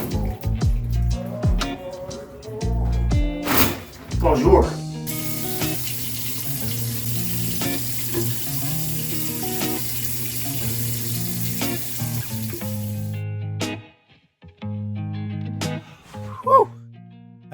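A shower runs in a steady, loud hiss of falling water for several seconds, framed by clattering and handling noises before and after, with a brief spoken greeting.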